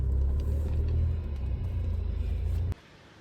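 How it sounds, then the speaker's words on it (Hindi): A car engine rumbles steadily as the car pulls away in first gear on a village road with the air conditioning running, its low drone holding level before cutting off abruptly near the end. "हटाई हैंडब्रेक और डाला पहला गियर"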